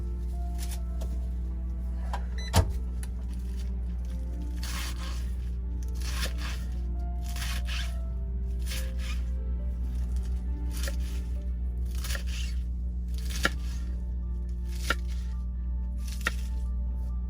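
A plastic salad bag being pulled open inside a semi truck, giving a long run of crinkly, crackling bursts in an uneven rhythm, with a few sharp snaps standing out. It is close and fairly loud, with no talking.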